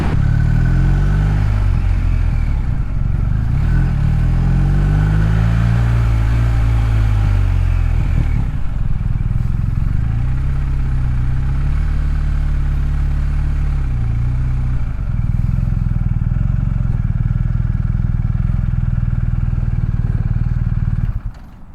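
A BMW R1250RT motorcycle rides a short loop with its stock windshield fitted, its steady engine drone and wind noise running loud and unbroken, with shifting engine tones as it accelerates and eases off.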